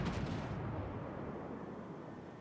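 A heavy naval gun salvo of HE shells in the World of Warships video game: one booming blast followed by a long, fading low rumble, heard fairly quietly with no talk over it.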